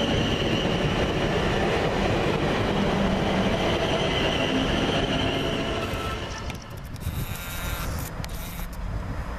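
A Class 450 electric multiple unit, 450.095 coupled with 450.119, departs Havant on a London Waterloo to Portsmouth Harbour service; a loud, close, continuous rumble of wheels and traction that eases slightly as the train pulls away.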